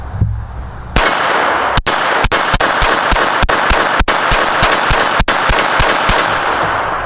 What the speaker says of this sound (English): to show you can get 15 rounds out of the Kimber 22 conversion